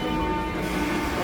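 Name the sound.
metro train arriving at Lenin Square station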